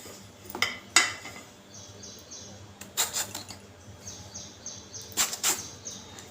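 Knife work on a bottle gourd, peeling and cutting it: a few sharp clicks and scraping taps of the blade sound in small clusters, fairly close and fairly faint, over quiet room tone with no talking.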